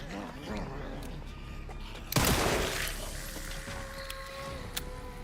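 A single sharp video game gunshot bursts out loudly with a shattering crack and decaying rumble, amid quieter game ambience and a few faint clicks afterward.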